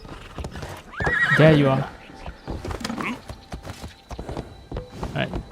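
An armored horse in the video game Assassin's Creed Shadows gives a loud, close whinny, then its hooves clip-clop in a steady walking rhythm, with someone talking over it.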